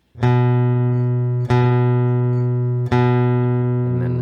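A single guitar note on the fifth string, second fret, is plucked three times at an even pace, each ringing out clearly and sustaining until the next pluck.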